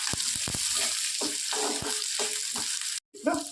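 Chopped onion sizzles in hot oil with mustard and cumin seeds as a spoon stirs and scrapes the pan in irregular strokes, a steady close frying hiss with a brief break near the end.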